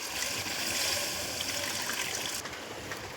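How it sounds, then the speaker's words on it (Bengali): Water is poured into a pot of loitta (Bombay duck) fish curry, a steady hissing trickle that runs for over two seconds, then eases off. "দিয়ে দেবো পরিমাণ মতো জল"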